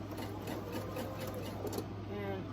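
A sewing machine stitches quilt seams in a steady, continuous mechanical whir with a constant low hum, running without pause at moderate volume.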